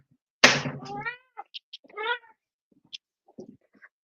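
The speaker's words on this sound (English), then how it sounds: "I just have to let my cat back in again because he decides to go outside and come back in" A pet cat meows loudly close by, one long drawn-out meow followed by a few shorter chirps and a second meow, then faint rustles.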